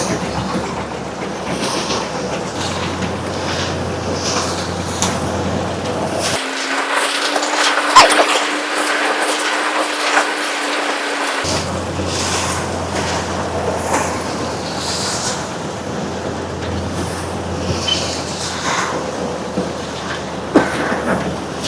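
A paddy thresher machine roars at raised RPM with a continuous dense mechanical drone and rattling, loud and close, holding steady with a low hum that drops out mid-way.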